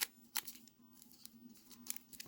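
Scissors cut through the wrapping on a trading card package, giving a few crisp snips and rustles, close and quiet over a soft background hum.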